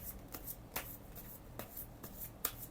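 Tarot cards being shuffled and picked, with soft repeated riffling and sharp snapping flicks spread through a quiet room, close up and fairly faint, no talking.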